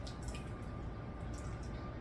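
Homemade tomato marinara sauce pours in a thick, steady, wet stream, with soft squishy dripping throughout a short moment.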